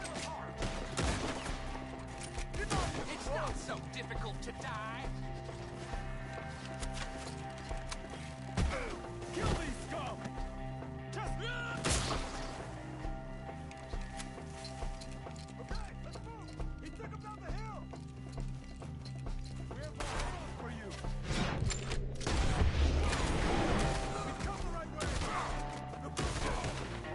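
Gunfire during a Red Dead Redemption 2 shootout: scattered shots and bursts under loud hoofbeats of horses, neighing and constant shouting voices, in a busy, cluttered mix that builds toward the end.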